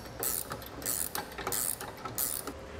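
Bolt with a nylon lock nut being tightened down on a Demco Hijacker Autoslide fifth-wheel hitch on a 2021 Chevrolet, giving repeated bursts of ratcheting clicks from a wrench, about four strokes, close and fairly clear.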